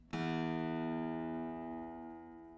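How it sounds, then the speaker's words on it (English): A guitar's low E string, the thickest string, plucked once during tuning, ringing out clearly and slowly fading, with nothing else around it. "Start by playing the low E string, the thickest string."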